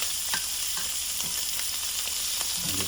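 Shrimp fry in a hot pan with a steady, dense sizzle and crackle that runs loud and continuous throughout, with small pops and a faint stirring scrape near the end.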